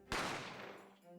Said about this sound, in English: I didn't have time to think about where the sound of the gunshot had come from